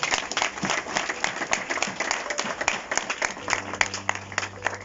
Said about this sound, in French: Est-ce qu'on peut encore acclamer très fort?